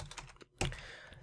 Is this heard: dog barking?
no